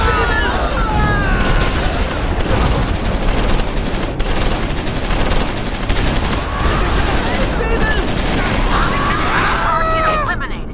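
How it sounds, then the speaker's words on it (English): Battle of the Bulge combat in the Close Combat 4 wargame: dense, continuous tank, mortar and machine gun fire, rapid overlapping bursts and booming blasts crackling without pause, with a few shouted voices rising near the end. "Within seconds, the infantry assault is eliminated by concentrated tank, mortar and machine gun fire"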